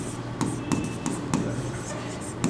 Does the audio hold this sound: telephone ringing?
no